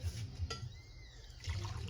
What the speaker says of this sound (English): So, pouring some coffee again.